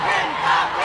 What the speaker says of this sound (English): the crowd started yelling at the girl holding the sign